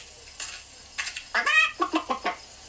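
A hen clucks close by in a quick burst of several short, throaty calls over a quiet background, with no talk.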